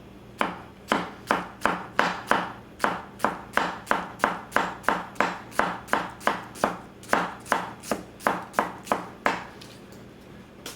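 Masakage Mizu 210mm gyuto chopping food on a board: a steady run of about two dozen crisp, evenly spaced knife strikes, close and clear, with no talking.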